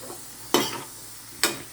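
Vegetables cooking in a pan, with a low steady sizzle broken by two sharp, brief bursts of stirring or frying hiss, close and moderately loud with no talking.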